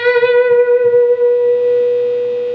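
A single electric guitar note bent at the 14th fret in a lick rings out sustained and distorted, held with gentle vibrato and fading slightly over a few seconds.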